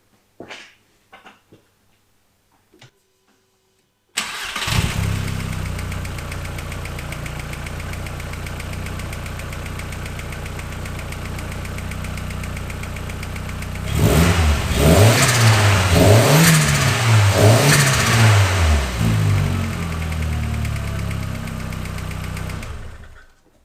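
A VW/Audi 1.8 20VT engine in a MK2 with fresh spark plugs cranks and catches, then settles into a steady, warm idle. It is revved up and down a few times in quick blips before easing back to idle, with a few faint clicks just before it starts.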